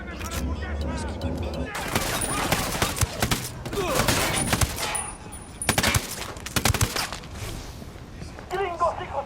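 Rapid bursts of gunfire from the shooter game Ghost Recon Wildlands crackle loudly and repeatedly in dense volleys, with voices shouting in the mix.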